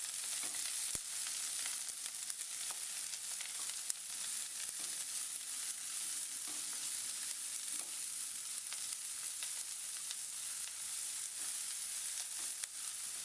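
Steady, quiet sizzle of onions, curry leaves, green chillies and peanuts frying in oil for lemon rice, a continuous hiss with occasional small pops and faint stirring.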